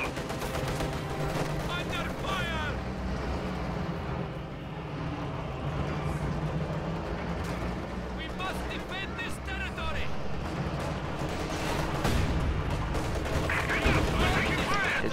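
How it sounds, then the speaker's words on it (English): T-34 tank cannon and small-arms gunfire in a World War II strategy video game battle, dense and continuous: repeated sharp shots and bursts over a rumbling game soundtrack with background noise. "nasty opening shot from that T-34"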